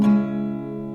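A single strum on an acoustic guitar rings out with the open low E string emphasized, a close, sustained chord that decays over about a second.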